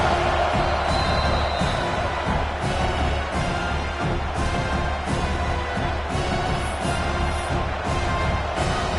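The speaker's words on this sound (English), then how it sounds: "This crowd is trying to inspire this defense to make a big red zone stop." Stadium crowd noise at a college football video game with Virginia Tech in a playoff first round, a loud, dense, steady roar with faint cheering swells, continuous throughout.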